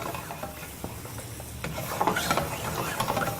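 Cream and mushroom sauce reduces over high heat in a hot pan for collops of beef with whisky, a steady close bubbling and sizzle with a spatula scraping and stirring through it, growing slightly louder toward the end.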